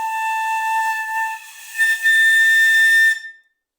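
A piccolo sounds a sustained note A, bright and piercing with strong steady harmonics, holding for about three seconds with a slight swell partway through before stopping cleanly.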